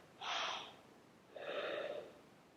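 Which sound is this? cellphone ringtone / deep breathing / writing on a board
deep breathing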